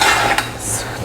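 Ingredients clatter into a metal cooking pot with a quick scrape and clink of utensil against the pan, a brief close, loud kitchen sound.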